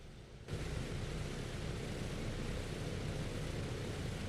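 A PMDG Douglas DC-6 in MSFS 2020 drones with a steady, broadband engine roar that switches on abruptly just after the start and holds evenly throughout.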